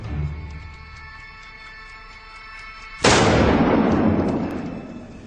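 A gunman firing from the hip lets off two shots so rapidly they merge into one sharp, loud blast after three seconds of quiet, followed by a long decaying echo.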